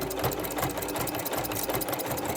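Close, steady whirring of a sewing machine stitching a seam on a quilted log cabin mug rug, running continuously without pause.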